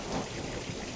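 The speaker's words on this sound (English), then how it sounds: "That was a decent rumble" A thunderstorm over Tulsa, Oklahoma, a steady wash of rain noise with a low, rolling rumble of thunder beneath it, all fairly soft and distant.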